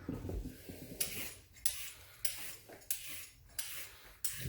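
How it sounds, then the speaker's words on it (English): Carrots being peeled with a hand peeler for cream of potato soup, a series of about seven sharp scraping strokes in a steady rhythm, close and fairly quiet, with no talking. "We're going to peel the carrots."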